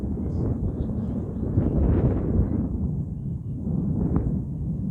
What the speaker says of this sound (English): The wind is just blowing